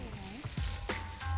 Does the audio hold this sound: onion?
yes